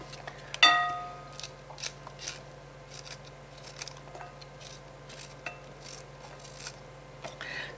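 Cauliflower being cut into small pieces for a vegetable crunch salad with broccoli: one sharp, loud cut opens, followed by a scattered run of softer, quicker cutting taps close by, with no one talking.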